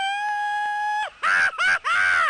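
A hyperactive racing video game announcer screams as the car goes through a corkscrew or loop, a long rising-and-falling vocal wail broken into three loud bursts after a sustained electronic tone.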